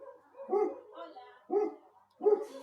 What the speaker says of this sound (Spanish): Perdón, porque están ladrando los perros